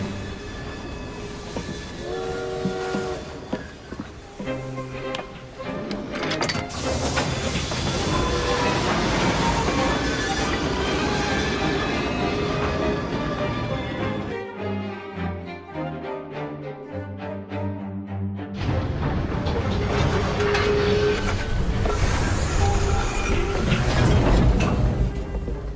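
A steam train runs in Assassin's Creed Syndicate, a loud, steady rumble of wheels and chugging with a brief horn-like tone, joined by swelling music that drops out midway and returns.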